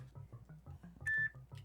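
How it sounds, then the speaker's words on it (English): A phone notification chime rings out once, a short bright electronic tone standing alone and clearly louder than the muffled game music running beneath it. "Was that your phone? Yes, that was my phone."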